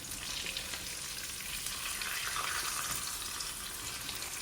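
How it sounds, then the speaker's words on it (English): Salted beef fries in oil with a steady, hissing sizzle that holds at an even level throughout, close by and with no voices. "So I'll be frying it until I get the desired color I like"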